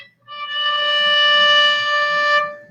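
A single natural harmonic rings out on the D string of a bowed string instrument, a pure, steady sustained tone lasting about two seconds and played alone, nearby and clear.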